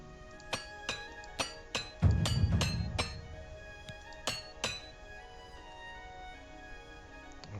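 A repair hammer repeatedly strikes gear in the video game The Elder Scrolls IV: Oblivion Remastered, giving bright ringing metallic clinks roughly every half second with a heavier thud partway through, then a few more spaced strikes.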